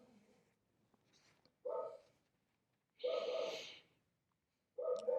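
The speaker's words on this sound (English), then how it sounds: "My dog is barking." A dog barking indoors, three short, distinct barks spaced a second or so apart, moderately loud, with faint breathing and quiet room noise in between.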